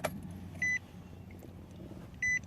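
A car's ignition switched to the on position without starting, giving two short electronic chime beeps about a second and a half apart over low cabin hum.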